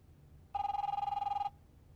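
An old-school cell phone rings once in a quiet room, a single buzzing electronic trill lasting about a second, clear and close against low background hum.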